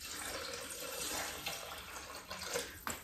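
Tap water running into a container to measure 680 g for a Thermomix, a steady close hiss of flowing water with a few brief knocks and splashes near the end.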